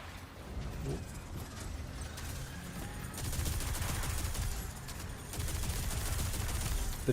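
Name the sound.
turret gunfire in a video game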